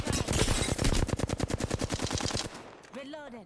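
Rapid automatic gunfire in a shooter video game, a loud sustained burst of closely spaced shots lasting over two seconds, then cutting off as a voice briefly speaks.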